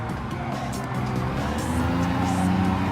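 A Daihatsu Copen RJ VGT race car in Gran Turismo Sport at Tsukuba Circuit revs hard with a steady engine drone, rising tones and brief tire squeal as it drives at pace, loud and continuous.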